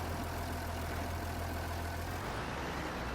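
A tractor engine idles in Farming Simulator 22 with a steady, dense mechanical drone. The rumble is loud and close and holds even throughout, with no talk over it.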